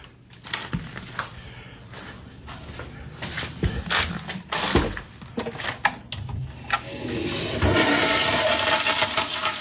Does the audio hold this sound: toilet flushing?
yes